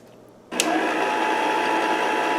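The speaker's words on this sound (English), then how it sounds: "I am going to blend in 4 eggs, 1 egg at a time." An electric mixer starts up and runs steadily, whirring at a constant pitch as it blends eggs into key lime square batter, loud and close with no talking.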